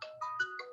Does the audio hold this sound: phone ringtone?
yes